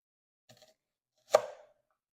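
Two knife chops on a cutting board while onions and jalapenos are cut, a soft tap followed by a sharper, louder chop with a short ring, close and isolated in a quiet room.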